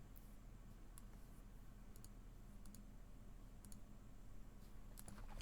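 Typing on a computer keyboard: sparse, faint clicks and small bursts of keystrokes scattered over a low background hum, irregular in rhythm and quiet throughout.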